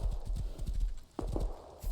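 Horse hooves clip-clop at a quick, steady trot in the game Rust, a close, rhythmic patter of hoofbeats with a short pause partway through.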